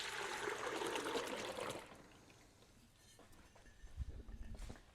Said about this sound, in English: I'm just going to pour the milk into the Instapot